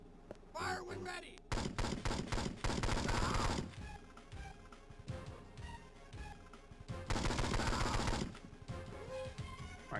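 Gunfire in the Game Boy Advance game 007: Nightfire, rapid crackling bursts of automatic shots, loud and dense in two long stretches, with sparser pops and crashes in between.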